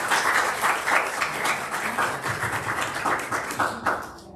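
An audience bursts into sustained applause to welcome a speaker at a talk about a small-town independent pharmacy career, dense clapping filling the room before easing off at the end.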